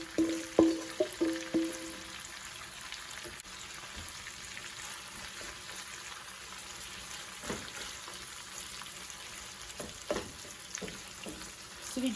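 Stuffed squid tubes fry in a hot pan, giving a low, steady sizzle under a few sharper crackles and stirring knocks near the start, then settling into a quieter continuous hiss.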